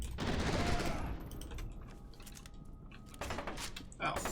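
F.E.A.R. 2 gunfire: a dense, loud burst of automatic shots at the start fades into quieter scattered cracks and a mechanical hum, with more shots returning near the end and a voice talking over parts.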